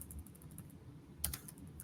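Typing on a computer keyboard, with a steady patter of light, close key clicks and a brief louder cluster partway through, over a low background hum.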